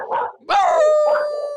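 Voices imitate a dog, giving a short gruff bark, then a drawn-out howling cry with a falling pitch, and another brief bark at the end, close and loud.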